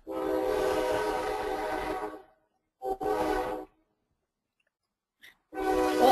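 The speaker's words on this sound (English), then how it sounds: "I hear the train coming by" A real train passes by outside, sounding its horn in loud sustained blasts broken by short gaps of silence, heard close and alone without talk.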